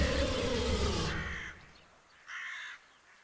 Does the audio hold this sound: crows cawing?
yes